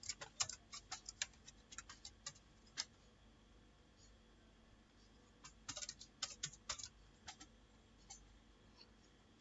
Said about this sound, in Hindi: सो यहाँ पे मैं कुछ नाम टाइप कर रहा हूँ जिसका हम इंपोर्ट करेंगे